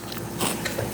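A bite into a crunchy freeze-dried yogurt-covered peach gives a sharp dry crackle and a few crisp crunches, close to the mouth and fairly loud, with no talk over it.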